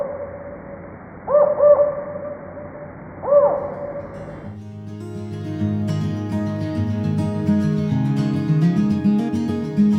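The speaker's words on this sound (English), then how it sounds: "the northern spotted owl" Northern spotted owl (Strix occidentalis caurina) hoots in two clear, fairly close bouts of short rising calls, then music takes over the second half.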